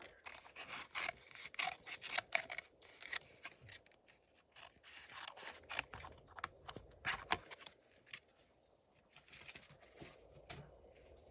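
Scissors snip and rasp through a cardboard circle in quiet, irregular bursts of close, faint cutting, paper scraping and rustling, with no talk.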